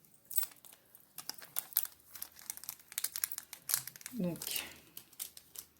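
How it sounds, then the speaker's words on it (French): A small plastic sachet is crinkled and fumbled with while trying to open it, giving quick, close crackling bursts mixed with a voice talking. "le petit sachet ne veut plus s'ouvrir"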